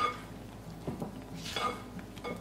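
Pineapple and pistachio pudding being mixed in a medium bowl, with soft scraping and a few light utensil clinks against the bowl, close and fairly quiet.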